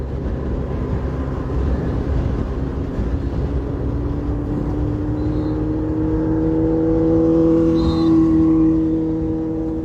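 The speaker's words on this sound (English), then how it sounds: "We have to clear the traffic. A huge bus is coming." A huge bus rolls past in traffic on the Judge Price Highway during a cycling race, its engine droning steadily and swelling louder as it draws near, mixed with the hum of other vehicles.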